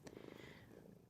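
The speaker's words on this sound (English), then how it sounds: "Do you hear purring? Benny's here." A cat named Benny purrs softly and continuously at close range, a low rumbling flutter that stays steady and faint throughout, with no voices over it.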